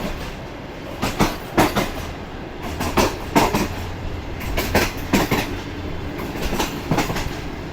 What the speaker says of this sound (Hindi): मज़ेदार ट्रैक साउंड के साथ ट्रेन हमारी आगे बढ़ रही है